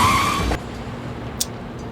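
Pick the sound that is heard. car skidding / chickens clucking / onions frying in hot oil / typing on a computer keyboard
car skidding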